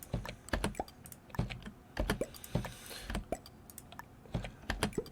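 Someone types quickly on a computer keyboard during a game, producing close, crisp clattering keystrokes in short irregular bursts with brief pauses and no voices.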